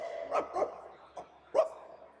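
A drug detection dog barks four times, short separate woofs spaced unevenly, close and clear over a quiet background.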